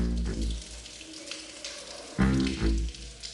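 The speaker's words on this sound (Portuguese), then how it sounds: "Aquele pinga-pinga ali é uma água que até hoje as pessoas não conseguiram identificar de onde vem aquela água" Water drips and splashes inside the old stone Fortaleza de Santa Cruz in Rio de Janeiro, a close, echoing patter whose source is unknown, with a few louder splashes near the end.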